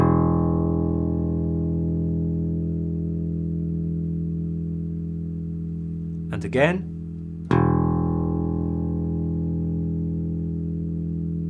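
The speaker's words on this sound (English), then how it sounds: "The fourth string is known as the E string and is tuned to the note of E." A bass guitar's open fourth string, tuned to E, rings out as a sustained low note, is cut off briefly, then is struck again and rings on, with a short spoken phrase in the gap.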